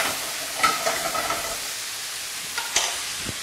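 Onions, tomatoes, thyme, bay leaf and garlic cook in a pan for a tomato risotto, a soft steady sizzle with a few stirring clinks and scrapes, close and without talk.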